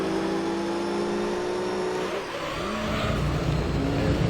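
A Ford Focus race car engine in Gran Turismo 3 roars steadily alongside other race cars, pitch dipping as it slows for a corner and then climbing again as it accelerates, with no talk.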